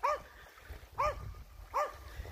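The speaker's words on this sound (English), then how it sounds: "Other than the yapping dog in the background." A small dog yaps three times in a regular rhythm at a beach by Smoothwater Lake, short high barks spaced under a second apart, moderately distant against low background rumble.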